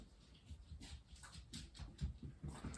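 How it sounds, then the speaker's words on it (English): Pepper, a pet dog, whimpers and pants softly at close range in short uneven bursts, faint and with no one talking. "This is our dog, Pepper."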